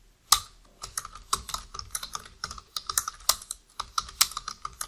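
A computer keyboard clatters as C code is typed, a fast, uneven run of close, crisp key clicks with short pauses between bursts and no talking.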